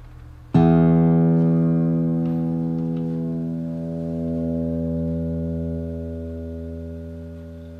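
A single low E note is plucked on a guitar and rings out loud and alone, a rich harmonic tone that sustains for several seconds while its upper overtones slowly fade and the note decays.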